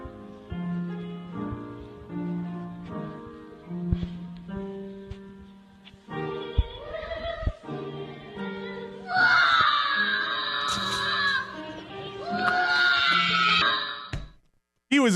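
A children's choir sings in a church, gentle harmonized voices at first, then a child's piercing high scream rises over the singing and persists on and off for several seconds before cutting off.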